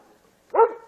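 A neighbour's dog gives a single short bark at moderate distance, a brief sharp burst after near silence.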